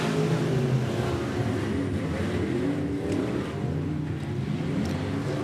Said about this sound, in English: we are green flag racing for the first time in the limited modifieds